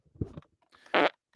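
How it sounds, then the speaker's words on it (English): A soundboard fart sound effect, a short, buzzy blast that follows a lower rumbling puff, brief and fairly close, with no talk over it. "That sounded like a soundboard fart."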